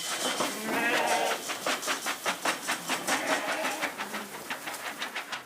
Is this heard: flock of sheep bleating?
yes